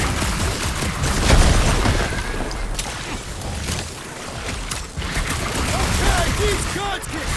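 Gunfire and mechanical bursts from a sci-fi action game, Marvel's Guardians of the Galaxy on PS5, rattle loudly and continuously over booming impacts, with voices of characters talking across the fight.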